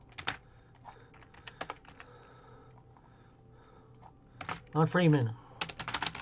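A computer keyboard clatters in quick, uneven bursts of close key taps as a tweet is typed, with pauses between runs and someone speaking briefly partway through.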